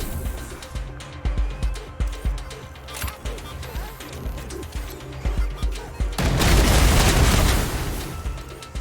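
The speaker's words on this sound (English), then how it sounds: "Kind of missed most of my shots there" Gunfire in the video game Wasteland 3: a run of sharp, regular shot bursts over ambient game sound and bird-like cooing, followed by a louder sustained blast of noise near the end.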